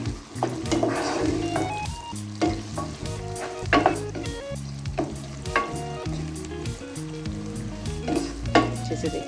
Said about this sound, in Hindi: अच्छा, इसमें एक प्याला मैं प्याज भी डाल रही हूँ।